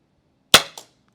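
A single sharp CO2 airsoft hand cannon pistol shot fired into a chronograph, loud and close, followed a quarter second later by a softer second pop or gas release.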